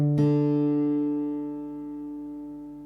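A single open D string plucked on an acoustic guitar during tuning by ear, one clear note ringing out and slowly decaying with no talk.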